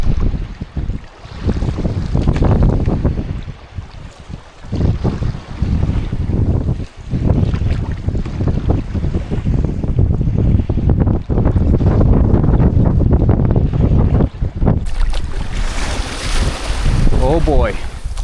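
Waves rushing past a canoe on a solo Labrador wilderness expedition: loud continuous churning water and heavy wind buffeting the microphone throughout, with a brief higher-pitched burst near the end.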